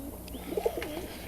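Young Kazan x Old German Owl cross pigeons coo softly nearby, a few low warbling calls rising and falling over a quiet background.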